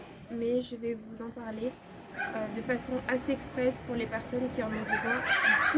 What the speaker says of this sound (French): Désolée pour le bruit, c'est mes chiens.